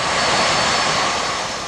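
An aging passenger airplane roars loudly and continuously with a broad engine rush that eases slightly toward the end, no voices over it.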